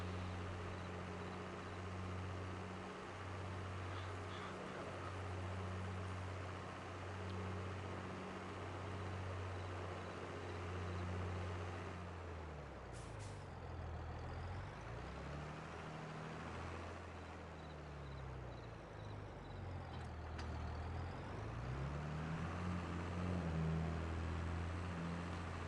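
Truck engine in Farming Simulator 22 while reversing a trailer into a warehouse, a steady low drone that shifts pitch as it revs and eases off, continuous and fairly faint for the whole stretch.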